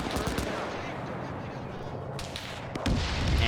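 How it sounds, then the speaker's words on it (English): Tanks firing in a World War II German versus Soviet video game battle: loud, rapid bursts of booming gunfire layered over constant combat noise, with a heavier blast near the end. "And hearing the tanks fire here."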